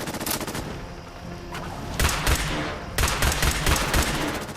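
Repeated gunfire in Fallout 4's Nuka World, clusters of sharp, punchy shots in quick volleys, loud and close with brief gaps and no talk.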